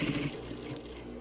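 A sewing machine runs steadily, stitching back over a seam during tailoring work on a handkerchief pocket, a continuous close mechanical whir with fast needle chatter and no speech.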